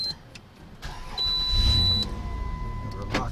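Electric motor of a homemade lithium-battery-powered wheelchair starts up with a steady whine and a low hum that holds, close by, with faint background noise.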